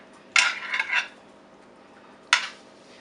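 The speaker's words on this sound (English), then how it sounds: "you're just going to take your noodles, toss it right down in there. And then you just want to smear it all in the fat" Cooked spaghetti noodles being tossed and smeared around in a pan with fat: a clattering scrape of utensil against the pan, then a second brief clank after a pause, close and with no talk.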